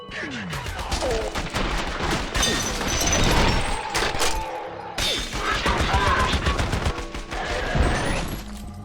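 Rapid gunfire in the shooter game F.E.A.R. on extreme difficulty, loud bursts of automatic fire with sharp crashes and impacts, nearly continuous across the span, with a brief gap midway.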